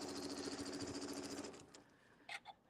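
A sewing machine runs steadily, stitching fabric circles with a fast, even mechanical whir, then stops partway through, leaving a couple of faint clicks and rustles.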